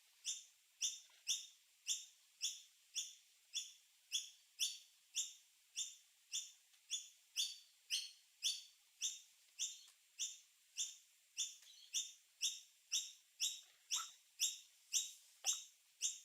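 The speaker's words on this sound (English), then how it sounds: "Those birds are very annoying." A bird repeats one high call over and over in a quick, even rhythm, about two calls a second. The calls are moderately loud and clear, and no voices are heard.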